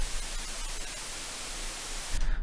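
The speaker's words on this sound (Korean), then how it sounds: "화이트 노이즈가 발생됩니다." Steady broadband white noise generated in audio editing software, a dense, even hiss held at moderate level, cutting off abruptly near the end.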